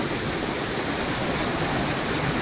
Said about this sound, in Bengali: এই জলটা নাকি ওই পিন্ডারি গ্লেশিয়ার থেকে গলেই এই জলটা আসছে, আর এই ব্রিজটা নিচ দিয়ে ওটা